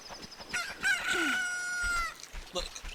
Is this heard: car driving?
no